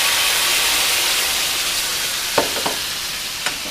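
Loud, continuous sizzle of marinade cooking in hot oil for a sauce, a steady hiss with a few faint clinks of a utensil toward the end.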